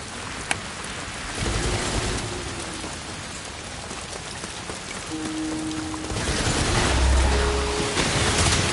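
Storm rain pours steadily in the Ghost of Yotei video game, a dense, continuous downpour with faint tonal game effects threaded through it and a heavier surge in the last few seconds.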